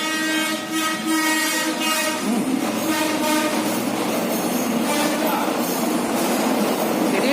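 A train passing on the railway right beside a roadside food stall, loud and close, with a sustained horn blaring over rumbling wheels and rattling cars, and a faint voice underneath.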